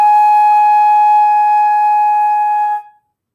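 A brass band instrument holds a sustained high concert A flat, a clear, loud, steady note with bright overtones that cuts off cleanly near the end, with no voices.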